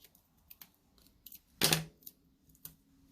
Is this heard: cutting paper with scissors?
yes